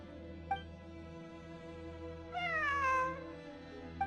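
A cat meows in the Genshin Impact game world, one long, clear, rising-and-falling meow near the middle, with brief chirps before and after over a steady ambient hum and no speech.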